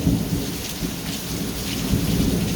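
Steady rain pours outdoors, a dense continuous hiss with low rumbling underneath, fairly loud and unbroken, no voices.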